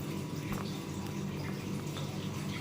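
Steady running tap water pours continuously during manual handwashing, a broad even hiss with no pauses, heard alone.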